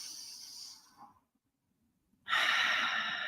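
A person breathes deeply in a calming exercise: a long, soft exhale trails off into a second of silence, then a strong, airy breath rushes in, close to the microphone.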